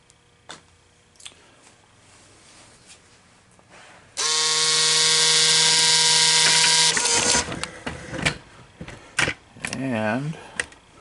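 An American Changer coin changer powers back up: after quiet clicks, a loud steady mechanical whir with a tonal hum runs for about three seconds, then stops and gives way to scattered clicks and a few short beeps.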